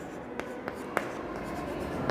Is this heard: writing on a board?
yes